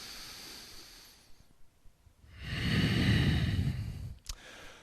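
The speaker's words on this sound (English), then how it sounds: "One more big breath here." Deep breath taken while holding a forearm-supported yoga pose during an intense upper-body workout, a long airy inhale-exhale swelling in the middle, close and alone with no talking.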